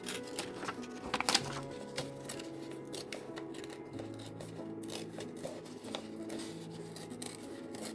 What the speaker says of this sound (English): so I will start ripping here and then we'll adjust